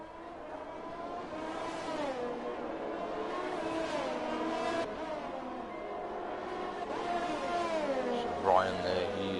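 Race cars pass one after another leaving the pits at a feature race in Italy, their engines a continuous, high, rising and falling whine under steady commentary.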